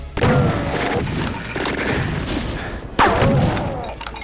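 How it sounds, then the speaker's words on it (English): A Doom chain gun fires in bursts, heavy booming shots landing at a steady pace with a sharper louder blast near the end, close and punchy over a rumbling game background. "And you have the chain gun"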